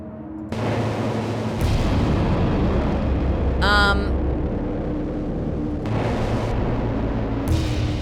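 A gas tank blows up in the video game Children of the Sun, a loud sustained blast with a rumbling roar and bright crackling burst in the middle, layered over dense game noise with no one talking.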